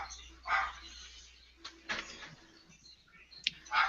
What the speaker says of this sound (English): Sounds like someone's dog's barking.